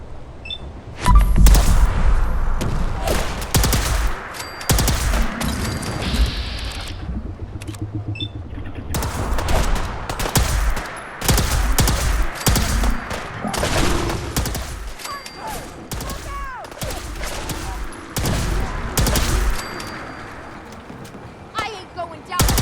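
Gunfire in the video game Fallout 4 during a fog-shrouded fight against Gulpers: loud bursts of rapid shots and scattered single cracks, close and intense, broken by short pauses, with voices shouting amid the shooting.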